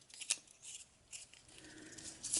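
Ridged Winter Squall tokens from the Fate of the Elder Gods board game are shuffled by hand, giving short, sharp bursts of clacking and scraping, close and fairly quiet, in irregular clusters.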